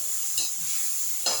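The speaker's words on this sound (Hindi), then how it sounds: "अब थोड़ा सा इसी में दही डाल देते हैं, जिससे मसाला मिल जाए।" Masala with freshly added yogurt sizzles in a pan on low heat, steady and close, while a spoon stirs it twice in short scraping bursts at the start and end.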